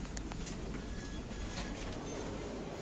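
A Tramway T3 tram in a video game rolls steadily along its rails, with a continuous close rumble and light clattering wheel clicks, and no voices.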